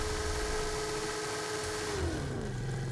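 A car engine in Forza Horizon 5 held on launch control, a steady high buzzing rev that suddenly drops in pitch toward the end, loud and constant.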